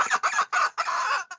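A chicken clucks in a quick series of four or five close, loud squawking bursts with brief gaps between them, heard alone with no talking.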